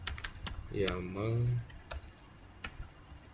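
Quick key presses of a command typed on a computer keyboard during a Python networking lab, crisp clicks scattered under a man's nearby speech.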